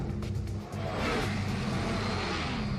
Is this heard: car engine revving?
yes